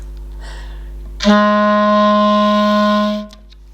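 A single low B-flat clarinet note begins after a brief pause, held steady and full for about two seconds, then fades out.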